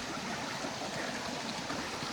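A steady, broadband rush of water flowing like a waterfall along a hiking trail, continuous and fairly loud with no pauses and no voices.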